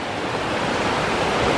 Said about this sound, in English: the creeks are roaring along